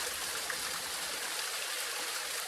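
Water trickles and gurgles steadily as a continuous close, soft wash of flowing water with no other sounds.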